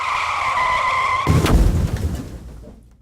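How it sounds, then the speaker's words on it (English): A steady, high tire squeal from a skidding car ends abruptly in a loud, broadband crash that rumbles briefly and then fades to near silence. "That's obviously someone crashing into something."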